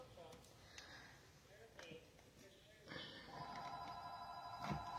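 A house telephone rings in a steady electronic trill through the second half, starting quietly and growing more prominent, while someone talks over it and things rustle nearby.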